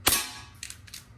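A Hatsan Vectis .22 air rifle fires a single sharp crack up close, followed by a short metallic ringing clang as the pellet strikes.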